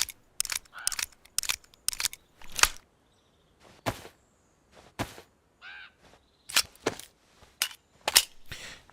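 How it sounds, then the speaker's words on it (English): Sharp mechanical clicks and clacks from reloading a silenced gun in DayZ, out in Livonia, come in irregular bursts, some close and loud, with short gaps between them and no talking. "Time to reload this this gun, and check the silencer."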